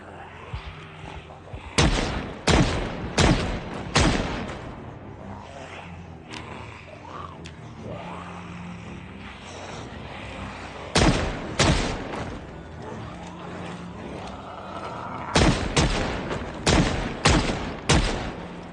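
A shotgun fires in the video game Project Zomboid, with loud, sharp blasts coming in quick clusters of several shots and long stretches of quieter ambient game sound between the bursts.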